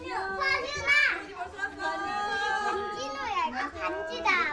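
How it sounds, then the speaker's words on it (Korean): Young children chattering and calling out excitedly as they arrive at a daycare classroom in the morning, several high voices overlapping close by in lively bursts. "하나둘 도착하는 아이들로 교실이 금세 북적북적해졌습니다."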